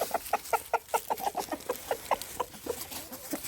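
Chickens cluck in a quick, steady run of short calls close by while being fed outdoors among fallen leaves, with soft rustling underneath.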